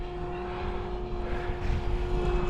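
A small airplane flies past, its propeller engine drone holding steady and moderately loud with a faint tonal whine, and no talking over it.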